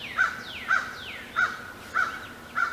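A crow caws five times at an even, unhurried pace, each harsh call clear and fairly close against quiet outdoor background noise.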